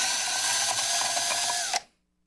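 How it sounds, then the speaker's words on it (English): A power drill with a step drill bit boring a hole, a loud steady high whine for under two seconds that stops abruptly, followed by near silence. "We'll measure halfway across and drill that hole. I'm using a step drill bit here"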